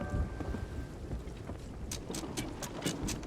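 Rain and a low thunderous rumble from a storm at sea in Sea of Thieves, a steady wash of rain with bursts of crackling splashes in the second half, no talking.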